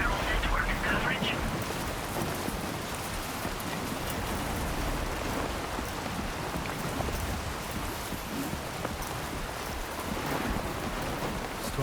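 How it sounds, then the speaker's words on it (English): In the video game Death Stranding 2, steady heavy rain pours through a thunderstorm, with a dense, constant hiss and faint low rumbles. "Storm's coming through."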